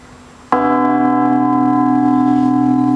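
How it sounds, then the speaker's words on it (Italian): A church bell cast in 1589 in France rings in the Sant'Orso bell tower in Aosta, Italy. One loud close strike opens a rich, sustained hum that rings steadily on to the end, pitched between B and B-flat. "Vi faccio sentire il suono di questa campana fusa nel"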